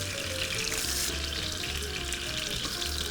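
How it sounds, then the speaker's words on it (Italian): Salmon browning in hot oil in a frying pan, a steady dense sizzle and crackle running continuously at close range with no voices. "Quando il salmone è ben rosolato, quindi c'ha quella bella crosticina dorata sopra"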